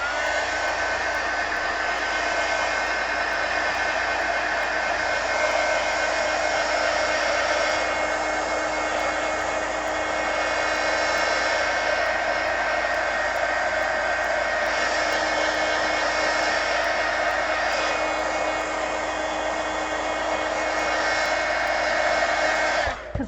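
A hair dryer blows steadily on a freshly painted base coat on an altered book page in a mixed media project, a loud, close, continuous roar that holds without pause for over twenty seconds before cutting off.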